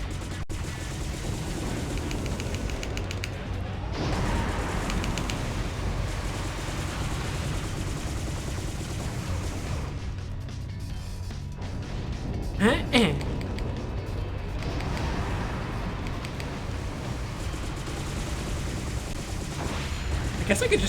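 Dense, continuous gunfire while shooting at a boss in the game PN03, a loud rattling barrage with sharper bursts near the middle, and a voice talking over it.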